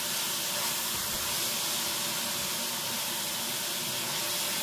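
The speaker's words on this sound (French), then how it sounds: "je fais revenir mes oignons" Onions frying in olive oil in a pan, giving a steady, bright sizzling hiss that stays loud and close without pause, with no talking over it.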